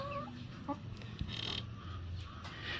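A healthy flock of chickens clucks and murmurs nearby, with short repeated clucks and soft calls over a steady outdoor background.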